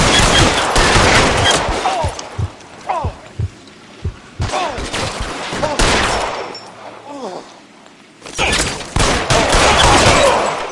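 Gunfire in the video game L.A. Noire: bursts of loud, sharp shots in clusters, with quieter gaps and voices shouting between the volleys.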